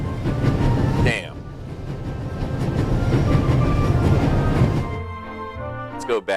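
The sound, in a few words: train running at full speed, from The Raven Remastered video game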